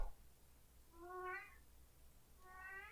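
A house cat gives two distinct meows about a second apart, quiet and fairly close, over faint background hiss.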